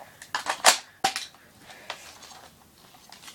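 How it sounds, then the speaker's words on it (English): Someone speed-winds the dial on the 300-round magazine of a JG M16A4 airsoft DMR, making a quick run of clicky ratcheting bursts for about a second, then fainter scattered clicks up close. "you just have to wind that dial, and you can also speed wind it right there"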